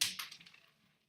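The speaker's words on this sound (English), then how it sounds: "The bearing fell out." A small bearing drops from a low-cost polycarbonate C3yoyodesign Speedaholic yoyo, giving a sharp close clack followed by a quick series of fading light ticks and rattles as it bounces and rolls away.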